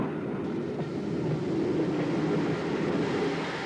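An L1 4-4-0 steam locomotive backing onto its train at Brighton Station, a steady rumbling of wheels and machinery at moderate distance, continuous for a few seconds with no talk.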